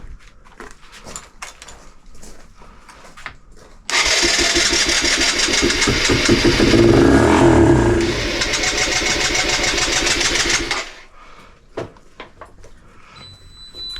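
A Suzuki Van Van 125 motorcycle starts after sitting unused for 20 years. After a few light clicks, the engine suddenly catches and runs loud and rough, revving up briefly, then cuts out after about seven seconds.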